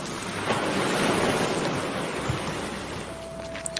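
Sea waves wash steadily onto a seashore at night, a dense, continuous roar of surf with a windy hiss, full and close, with no voices over it.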